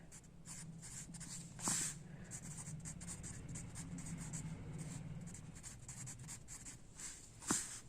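A pen scratches steadily across paper while an answer is written out, a soft continuous close-up scribbling with two brief louder taps or strokes near the start and end; no voices.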